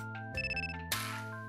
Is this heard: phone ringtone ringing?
yes